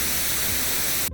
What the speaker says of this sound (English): Pure white noise, which sounds a little bit like this